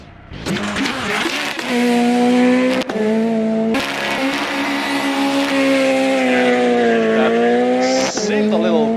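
Renault rally car on stage 3 of the Rajd Rzeszowski, Eastern European Rally Championship round, its engine revving hard with shifting pitch and brief tyre scrabble, loud and close throughout.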